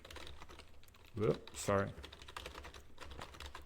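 Keys clatter on a computer keyboard in quick, irregular bursts of soft clicks, close by, broken for a moment by a short spoken apology.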